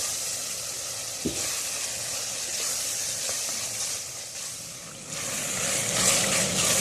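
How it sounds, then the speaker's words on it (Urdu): Fresh tomatoes hit hot camel meat karahi, a steady loud sizzle and hiss with a sharp clank near the start and scraping stirring throughout, the frying swelling louder toward the end. "ہم اس میں فریش ٹماٹر ڈال دیں گے، اور اچھی طریقے سے ہلائیں گے"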